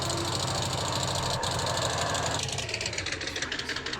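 ATV engine in the zombie video game Toy Warriors Rise of the Undead, a steady mid-pitched motor drone that shifts partway through into a rougher, pulsing chug, continuous and close with no talk.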